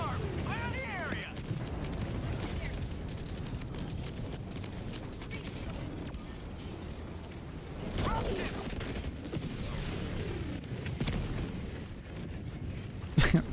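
Hellbomb explosion in a video game, a deep rumbling blast amid ongoing gunfire and mechanical noise, with people talking over it.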